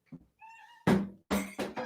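A house cat meowing nearby in a kitchen, with a couple of short meows followed by louder thumps or knocks and more vocal bursts in quick succession.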